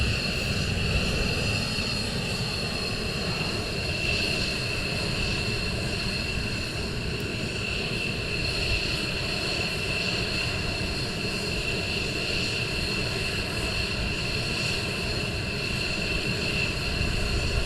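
Military jet engines roar steadily at RAF Lakenheath during morning surge operations, a loud continuous droning rumble with a high whine sustained throughout, no voices.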